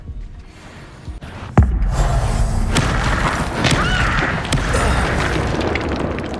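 Incendio fire spell cast in Hogwarts Legacy, heard as a sudden booming thud followed by a sustained roaring, crackling burst of flame against steady game ambience.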